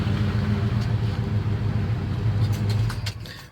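A 1975 Chevy Silverado C10 pickup engine idles with a steady low rumble close by, then the sound begins to fade as it is shut off near the end.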